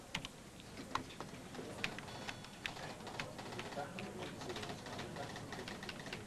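Rapid keystrokes on a computer terminal keyboard in a newsroom, a steady stream of light clicks and taps continuing throughout with some busy room noise underneath.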